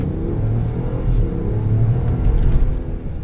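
A 2023 Wagoneer L Series 3 SUV accelerating hard, its engine giving a steady, loud, rising rumble heard from inside, with no one speaking.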